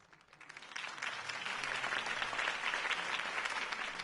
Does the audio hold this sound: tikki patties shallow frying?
no